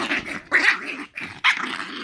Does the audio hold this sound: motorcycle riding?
no